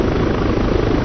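Helicopter hovering in the ARMA 3 game, a steady, loud low rotor-and-turbine drone holding even power throughout with no voices.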